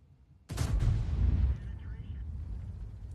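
Tank cannon fire in World of Tanks: one sudden loud boom followed by a long rumbling roar that slowly dies into a low continuous battle drone, with no voices over it.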